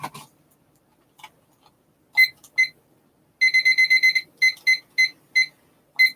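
A timer alarm beeps in clipped electronic bursts, first a couple of isolated chirps, then a rapid run of repeated beeps followed by several spaced ones, loud and close with no talk over it.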